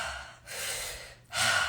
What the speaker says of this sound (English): we're gonna do breathing in through the mouth and out through the mouth